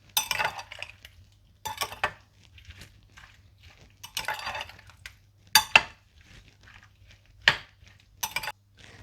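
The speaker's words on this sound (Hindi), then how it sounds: "पिसी हुई काली मिर्चें, चाट मसाला, लेमन जूस और नमक डालकर अच्छी तरह से मिला लें।" A spoon stirs peach chaat with ground black pepper, chaat masala, lemon juice and salt in a bowl, making intermittent clinks and scraping bursts with quiet pauses between strokes.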